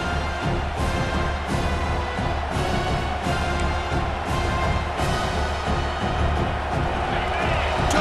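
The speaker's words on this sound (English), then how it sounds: "this home crowd is fired up and ready to make a difference today" A stadium home crowd roars in EA Sports College Football 26, a dense, steady wall of cheering and noise that holds loud throughout, with a voice running over it.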